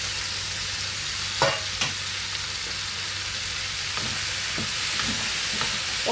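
Chopped tomatoes and green chillies fry in a pan for an Andhra-style tomato curry, giving a steady sizzle with a few sharp scrapes and knocks from stirring.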